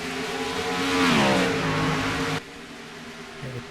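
Race cars in a racing video game accelerate past on a lap at Watkins Glen, one loud engine note rising in pitch, sweeping by, then cutting abruptly to a quieter, steadier drone.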